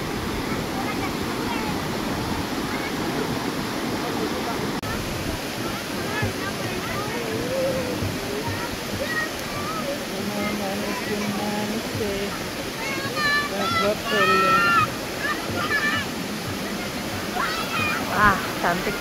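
Curug Cikaso waterfall pours clear water in a steady, loud, broadband roar that fills the whole stretch, with people talking intermittently over it.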